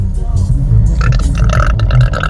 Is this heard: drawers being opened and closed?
no